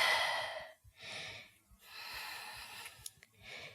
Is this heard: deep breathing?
yes